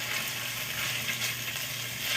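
Garlic and onions fry in a pan on the stove, a steady bright sizzle and crackle carrying through the whole stretch, with faint scraping as they are stirred.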